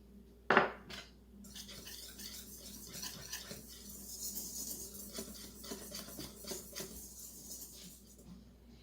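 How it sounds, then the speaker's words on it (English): A whisk scrapes and rasps around a bowl, mixing flour, baking powder, baking soda and salt, with a sharp clink at the start followed by steady, close, continuous stirring and gentle tapping. "whisk the flour, baking powder, baking soda,"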